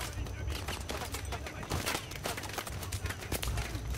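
Rapid gunfire in the futuristic shooter Call of Duty: Advanced Warfare, dense bursts of shots crackling close and loud without pause, like a fusillade of automatic weapons.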